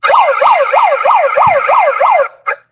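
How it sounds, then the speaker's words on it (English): Handheld gadget siren wailing in rapid repeating rising-and-falling sweeps, loud and close, about seven cycles before cutting off abruptly with a brief chirp after. "We don't want siren."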